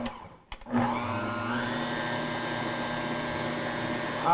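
A NutriMill Artiste stand mixer run without its lid starts after a couple of clicks, then its motor holds a steady, close whirring hum that rises slightly in pitch as it comes up to speed.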